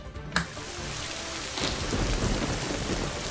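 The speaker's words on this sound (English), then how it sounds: "what's that sound? Is that the storm?" A played storm effect: a sharp crack opens, then heavy rain swells into a dense, loud wash with rumbling thunder underneath, and no voices.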